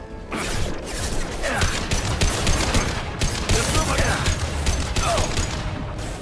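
Sustained automatic gunfire from a Mass Effect 2 firefight, dense overlapping bursts and impacts filling the whole stretch at steady high loudness, with a voice briefly heard beneath the shooting.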